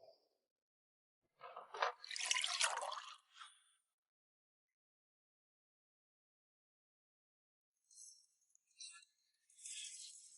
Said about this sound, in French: je vais juste boire un peu d'eau